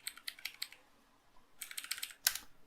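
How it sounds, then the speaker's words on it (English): Keys on a computer keyboard clatter in two quick bursts of rapid, light clicks separated by a short pause, close up and fairly soft, with no voices. "So when I press A on the keyboard, we can try that."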